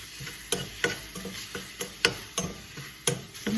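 Baked eggplant pulp mixed with its juices in a baking dish, giving a steady run of wet, squelchy stirring strokes with soft scrapes roughly every half second, close and alone.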